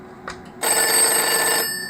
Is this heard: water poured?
no